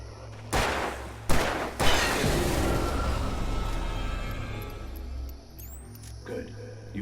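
Gunfire in the video game Alan Wake Remastered, a few loud sharp shots close together early on, then a long booming decay under a low droning game score.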